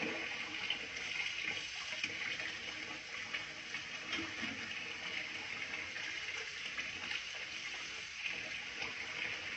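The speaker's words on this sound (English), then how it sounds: "so we're just rinsing that out" Running tap water rinses a two-part dental suction tip at a sink, a steady broadband gush and splash that holds even and fairly close throughout.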